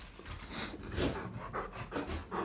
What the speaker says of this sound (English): Winnie, no barks, honey.